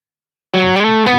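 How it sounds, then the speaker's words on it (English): Distorted electric guitar plays a single sustained note at the 2nd fret of the G string, cutting in abruptly after half a second of silence and ringing loud and steady to the end, with no talking. "We want to hit the note, the 2nd fret onto the G string."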